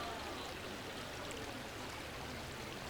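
River water flowing steadily, a continuous soft rushing wash with no breaks, faint and even throughout.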